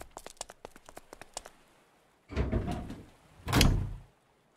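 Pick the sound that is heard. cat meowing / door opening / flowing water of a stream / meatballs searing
door opening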